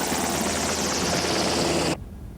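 A Black Hawk helicopter flies overhead with a loud, steady rotor and engine roar that fills the whole stretch, then cuts off abruptly near the end.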